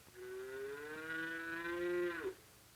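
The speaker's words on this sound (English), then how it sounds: "Buttercup the calf is just waking up too. He is hungry and wants his mother" A single long, drawn-out moo from a hungry calf on a horse farm, loud and close, rising slightly before cutting off abruptly, in a 1942 recording.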